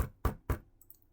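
Someone raps on a home's front door three times in quick succession. The knocks are fairly close but soft, followed by a brief faint high tone.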